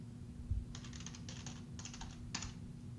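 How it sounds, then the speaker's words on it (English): Keys clatter on a computer keyboard as a terminal command is typed, several quick bursts of soft clicking separated by short pauses over a faint steady hum. "type sudo space mn-c and put in the password for CyberOps Analyst"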